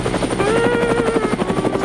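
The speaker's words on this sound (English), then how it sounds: "Spider-Man starts chasing the helicopter through the city" A helicopter in the video game Spider-Man PS4 thrums close and loud with a fast, pulsing rotor beat and a whining engine tone, steady throughout.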